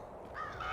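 A bird in a video game gives a short cawing call over a steady background of game ambience, moderately loud and close.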